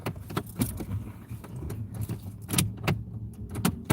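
Car keys jangle close by in short metallic clusters, with a few crisp rattles standing out against a quiet car interior and no talking.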